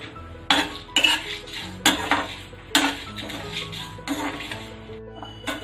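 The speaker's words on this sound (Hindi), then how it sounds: "1 मिनट तक हम इसे ड्राई रोस्ट करेंगे।" Coriander, fenugreek seeds and broken red chillies dry roasting in a pan, heard as repeated metallic clinks and scrapes of a spoon stirring against the pan at an uneven rhythm, close and fairly loud.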